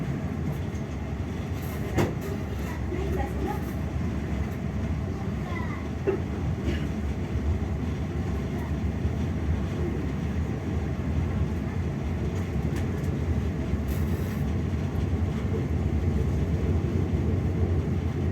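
The Fajar Utama Yogya passenger train runs at a steady pace, a continuous rail rumble and rattle with faint intermittent clicks throughout.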